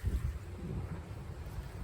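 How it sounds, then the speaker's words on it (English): Outdoor wind gusts across the microphone in a steady low, rumbling buffet, close and unbroken for a couple of seconds with no talk. "Let's get y'all out of this wind."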